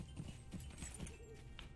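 Horse hooves clop in a steady galloping rhythm while riding in the video game LOTRO, moderately close and quiet.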